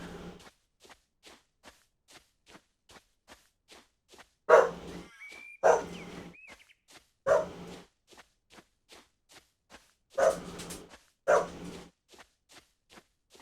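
A dog in the survival game No One Survive barks in five sharp bursts spread over several seconds, loud against a quiet background of steady, evenly spaced soft ticking steps.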